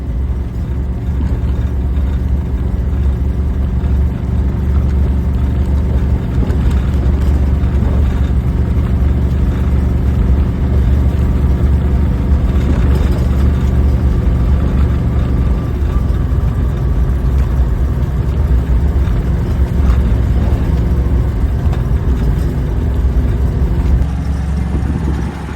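Van rolling slowly along a quiet country road at around 45, a loud, steady low engine rumble with constant road noise and no talking.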